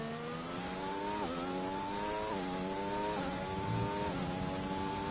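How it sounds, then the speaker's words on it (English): A race car engine in a sim racing game of the Bahrain circuit climbs steadily through the revs, with the pitch rising and dropping back at each of several gear shifts, heard at moderate level with no talk. "Really revving that engine."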